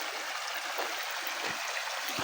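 River water runs past the edge of a plot of land beside a village road, a steady broad rushing wash, moderately faint and continuous with no voices.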